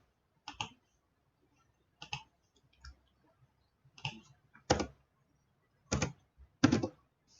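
Typing on a computer keyboard, heard as sparse, separate clicks and short bursts of keystrokes with quiet gaps between them, close and fairly crisp.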